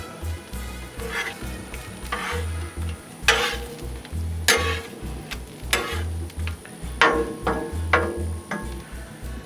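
Taquito tortillas being flipped and warmed on a Blackstone griddle give a steady soft sizzle, broken by a few sharp scraping clicks of a spatula, close and alone without voices.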